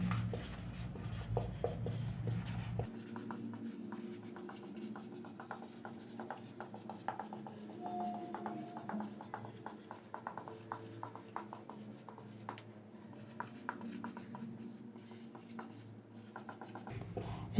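Pen scratching notes onto paper during a maths lesson, a soft, close, steady scribble of strokes and taps running throughout, faint and continuous with no talk.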